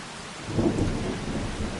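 Rain and rolling thunder in the farming game Farming Simulator 25: steady rainfall under a deep thunder rumble that swells near the middle and then settles back into the downpour.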